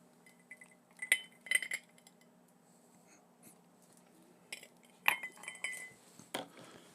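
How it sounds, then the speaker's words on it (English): Ice cubes being swapped in a glass: scattered bright clinks and rattles in a few bursts, close and fairly quiet, with short gaps of near silence between. "Let me swap ice real quick."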